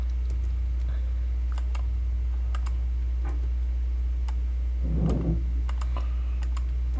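A computer keyboard is tapped with sparse, light clicks scattered at an unhurried pace over a steady low hum, with a brief murmur in the middle.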